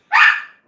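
A single short, sharp bark from puppies indoors, loud and close, cutting off quickly with no other sound around it.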